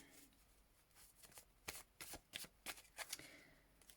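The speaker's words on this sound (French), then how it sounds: "je vais juste rajouter quelques cartes" Tarot cards being shuffled and laid down, a close, quiet run of crisp riffling bursts that turn into several sharp slaps and flicks toward the end, with no voices.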